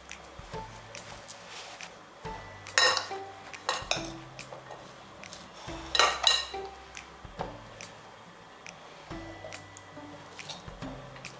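Close clatter of a utensil stirring and scraping in a bowl while garlic and parsley are mixed into ingredients for meal prep, with irregular clinks and a couple of sharper knocks against the dish.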